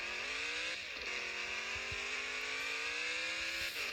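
Speed buggy engine in the off-road driving game Off-Road Outlaws, a steady loud buzzing drone that holds for the whole stretch with slight shifts in pitch as the throttle changes, no voices.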